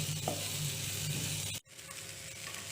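Chopped cauliflower tipped into a hot pan for namkeen sevai, crackling in a steady close sizzle with stirring scrapes. The sound cuts out briefly, then resumes softer.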